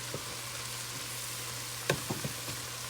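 Onions frying in a pan with a crushed beef bouillon cube, a steady soft sizzle throughout with a low hum and a few brief clinks of a utensil near the end.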